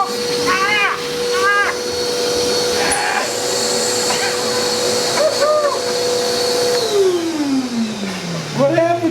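A large air filter unit draws air with a steady, loud whooshing roar, and its tone slides downward near the end as it winds down. Several people talk over the noise.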